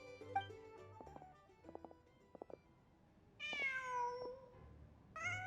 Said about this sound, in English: Huh. Just a cat.